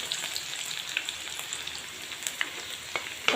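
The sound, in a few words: red chili added to hot oil, sizzling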